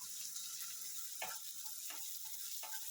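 Dried curry leaves dropped into hot oil in a pan for a Goan potato sukhi bhaji, giving a steady soft sizzle with three brief sharper crackles, no talking.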